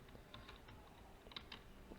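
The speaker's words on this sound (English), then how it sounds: "So I'll be typing over here passwd and a root." A password being typed on a computer keyboard during a Kali Linux setup, with soft, quiet, close keystrokes tapping in an uneven rhythm and no talking.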